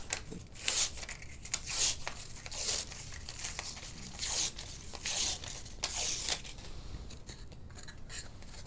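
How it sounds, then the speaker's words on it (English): Paper backing is peeled off a thin skin piece in repeated short crinkly tearing strokes, close and crisp, with small rustles between the pulls. "We need to peel paper, add some shape"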